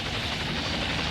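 An anime helicopter arriving, its loud, dense rotor and engine roar close and constant throughout, with no voices over it.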